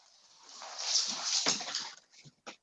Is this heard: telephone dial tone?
no